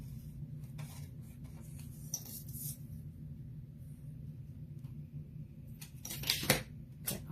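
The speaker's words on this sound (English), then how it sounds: "And just cut this where the sticky part is." Scissors snip through the sticky part of a clear sticker in a quiet room, several crisp cuts close by, with a louder cluster of snips near the end over a low hum.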